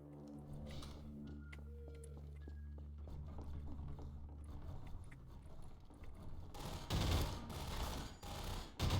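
Rapid bursts of gunfire from Half-Life 2: Episode Two, loud and clustered near the end of the clip over steady game ambience and mechanical clanks, with no talking.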